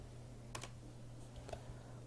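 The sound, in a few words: typing on a computer keyboard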